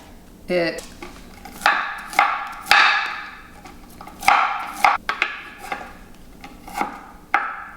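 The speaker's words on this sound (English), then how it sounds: "So you can keep the big pieces, but I just like a fine chop because I like the texture" A knife finely chops a large pile of cauliflower on a cutting board, with irregular sharp thuds and crunchy scraping strokes close by, some quick strikes and some spaced apart.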